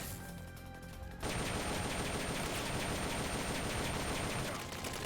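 Video game gunfire: a sustained burst of rapid automatic fire starts abruptly about a second in and rattles on loud and dense to the end, with no talking over it.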